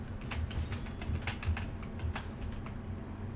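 Rapid computer keyboard typing by a gamer playing a survival horror game, crisp clustered key clicks in an uneven rhythm, close and fairly loud over a steady low background hum, with no voice.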